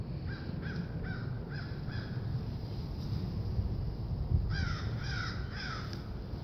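A crow caws outdoors in two bursts of about five harsh calls each, moderately distant, over a steady rush of wind noise.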